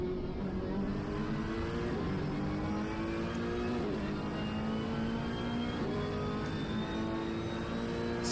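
A Ferrari race car engine screams around Bathurst in a PS5 racing game, a continuous high-pitched howl with rising and falling revs through gear changes, loud and steady with other cars nearby.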